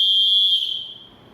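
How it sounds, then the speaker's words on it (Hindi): A PE teacher's whistle sounds one loud, shrill, sustained blast that fades out after about a second. "सीटी के द्वारा ध्वनि कैसे उत्पन्न करेंगे?"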